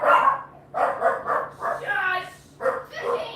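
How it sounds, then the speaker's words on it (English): Indoor dog barking in short bursts, mixed in with people talking close by at home. "You don't need to bark."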